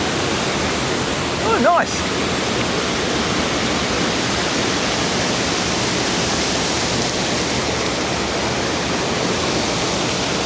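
Steady broadband rush of river water flowing downstream in Klungkung, Bali, loud and continuous throughout, with a brief voice speaking near the start.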